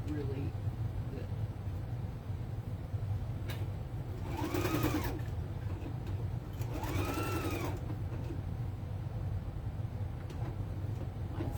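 A sewing machine runs steadily, stitching fabric for a homemade Easter basket, its continuous motor hum and needle rattle steady throughout, with faint voices briefly in the background.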